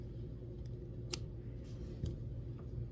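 Scissors cutting quilt fabric, a faint sharp click followed by a few soft snips over low steady background hum, close and quiet with no talk.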